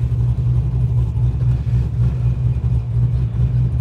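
Car engine fitted with a Gen 4 PCM and suffering hard-starting trouble and throttle hang, heard as a steady, loud, low-pitched running drone with slight uneven pulsing throughout, no clear revs.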